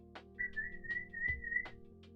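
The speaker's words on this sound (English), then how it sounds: "You should whistle for them" A person whistles one long, steady, fairly loud note that lasts over a second, with a few sharp clicks and low bumps around it and no talking.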